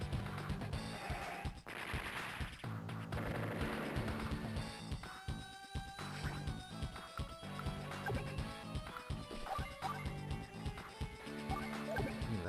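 Units firing in the Game Boy Advance strategy game Advance Wars, with busy chiptune music and repeated sharp clanking attack hits and crashes in quick bursts.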